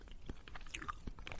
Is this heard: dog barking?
no